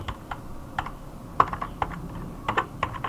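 Hands typing a short terminal command on a computer keyboard in Ubuntu: a steady run of light, close key clicks with a few firmer taps, uneven rhythm, no speech.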